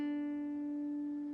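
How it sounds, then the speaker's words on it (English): A single sustained guitar note, picked then hammered on to the 7th fret of the G string, rings out clearly and steadily, decaying slowly with no other sounds around it. "You're going to pick it and hammer on to the 7th fret of your G."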